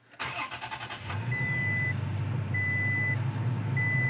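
A truck's engine cranks for about a second with rapid chugging, then catches and settles into a steady, loud idle, while an interior chime beeps three times at regular intervals; no talking.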